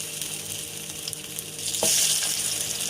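Pumpkin slices hiss and sizzle in hot oil in a pan, a steady crackling fry that swells louder partway through as more pieces go in.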